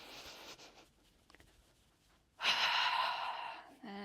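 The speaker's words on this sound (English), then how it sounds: "Taking one more full breath here." A slow, deep breath during a yoga session: a soft airy exhale fades out, a quiet pause follows, then a long, loud, close inhale or exhale rushes through for over a second.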